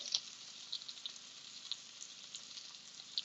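Eggs fry on a Big Green Egg grill alongside sweet potato hash, giving a soft, steady sizzle dotted with small sharp pops and crackles, fairly quiet and uninterrupted by speech.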